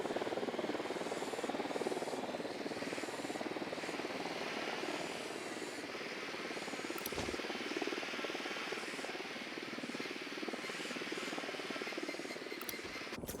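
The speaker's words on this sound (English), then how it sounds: "Deploying drone." Surveillance drone in the video game Ghost Recon Wildlands, a steady rotor-like buzzing hum held continuously and evenly loud throughout, close and unbroken.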